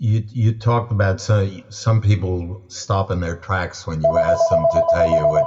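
A telephone rings in the background under close continuous conversational speech, its steady tone entering near the end and sustaining beneath the talking.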